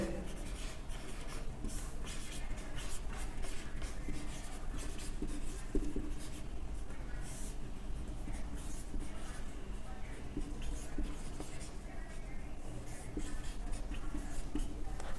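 A pen scratches continuously across paper as a maths solution for a Class 10 lesson is written out, producing a busy, close rustling texture over a low background hum for a long stretch.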